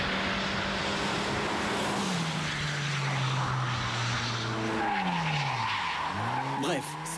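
A Mitsubishi rally car from the 2002 Dakar accelerating hard, its engine note climbing and dropping through gear changes with loud, steady roar and rushing noise throughout, no one speaking.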